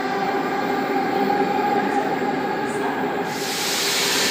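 A Sydney T set train departs from a station platform, its motors whining and wheels rumbling in a steady, moderately loud hum, with a burst of hissing air joining near the end.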